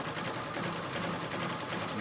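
Treadle sewing machine stitching leaf quilting, a continuous fast, even mechanical whir and patter, close and steady from start to finish with no voices.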